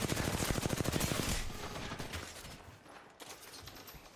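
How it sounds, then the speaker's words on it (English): A fast burst of automatic gunfire in the video game Apex Legends, loud rapid shots for about a second before trailing off into echoing tail and distant rattle. "Firing. Taking fire."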